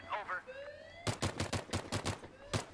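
Rapid bursts of automatic gunfire in the Battlefield 3 beta, a string of sharp close shots in quick rhythm after a brief tonal lead-in, with a voice heard faintly beforehand.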